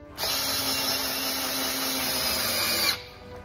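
A power drill drives a double-thread deck screw, its motor whining steadily and loudly for almost three seconds before cutting off, with no talking.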